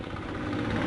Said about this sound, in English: Sorry for that motorcycle there